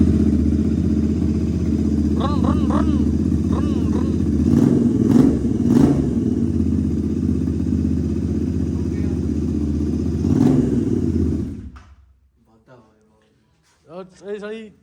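A Royal Enfield Bullet motorcycle idling near and loud with an aftermarket exhaust, a steady low thumping rumble with a couple of throttle swells before it cuts out, while someone talks over it and after it.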